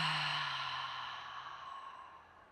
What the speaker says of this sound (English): breathing out with an audible exhale